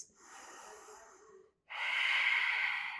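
Deep breaths during a fire element yoga flow: a soft, airy inhale, a brief pause, then a louder, forceful hissing exhale, close and alone.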